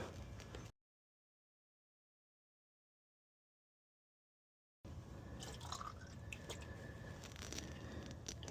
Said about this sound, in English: you want to let it start to drain for about 5 seconds before you start collecting